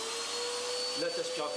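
A vacuum cleaner pulls air from a plastic clothes storage bag with a steady high-pitched roar, and crinkling and shifting noises come in over the last half.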